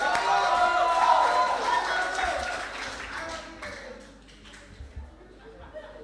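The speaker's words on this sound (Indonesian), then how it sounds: "kita kasih aplaus sekali lagi buat Buru Barus" An audience at a youth preaching contest applauds, with loud, dense clapping that gradually thins and fades, some voices mixed in.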